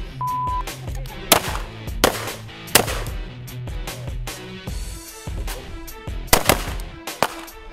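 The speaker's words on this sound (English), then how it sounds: "For me, I started with the shotgun." Shotgun fired on an FBI firing range, a series of sharp, loud blasts spaced irregularly about a second apart with reverberant tails, set against a steady background hum.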